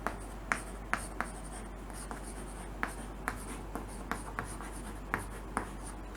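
Pen scratching and tapping on paper while a maths formula on vectors is handwritten, soft irregular strokes with sharp clicks spread through the quiet stretch, close and faint, no talking.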